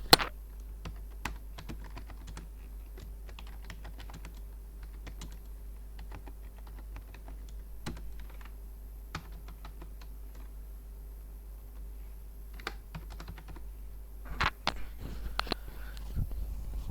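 Keys clatter steadily on a computer keyboard while someone enters text into an Excel spreadsheet, a soft, close, irregular tapping that runs continuously, with a few sharper clustered strokes near the end and no voices.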